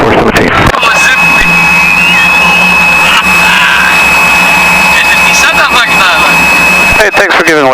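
A loud, roaring jet aircraft engine at an airport, a steady close whine and rumble that runs for several seconds with a sharp high tone on top, heard from inside a small plane's cabin.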